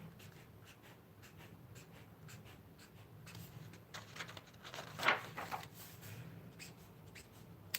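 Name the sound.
pen writing in a journal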